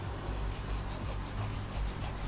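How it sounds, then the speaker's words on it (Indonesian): A saw rasps back and forth through ceramic biological filter media in steady, repeated strokes, loud and close, without any talking. "Nah, kita gergaji lagi."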